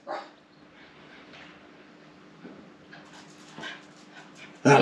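Peanut the dog gives soft whimpers and whines close by, with a faint hum behind them, then lets out a sudden loud bark at the end.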